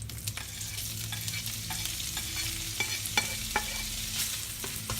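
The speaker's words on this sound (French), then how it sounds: "L'huile est chaude. On va mettre d'abord l'ail déjà coupé. Ensuite, les lardons nature." Garlic and plain lardons fry in hot oil with a steady close sizzle, and a utensil stirring them makes sharp scraping clicks at irregular intervals.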